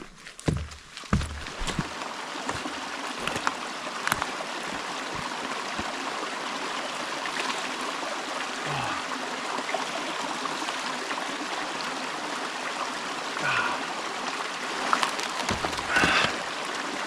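A small high-altitude mountain stream flows steadily with a constant close babble and trickle, punctuated by a few soft thumps and knocks early on.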